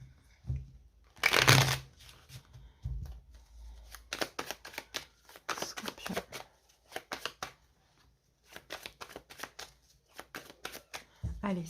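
Tarot cards being shuffled and cut by hand, a loud riffling burst early on, then many close, quick papery taps and slaps in uneven clusters with short pauses.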